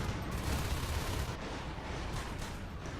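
Dense, continuous gunfire during a Natural Selection match on the BioDome map, a steady roar of rapid shots that stays loud and unbroken throughout, with no talking.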